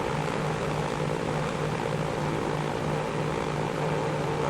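Full-throttle propeller engines of a Douglas DC3 in the Transport Fever video game make a dense, even drone with a pulsing low note, loud and close, holding steady throughout.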